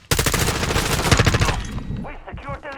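Rapid automatic gunfire in the video game Modern Warfare 2, a loud dense burst of shots lasting over a second, followed by a few scattered shots and a voice speaking.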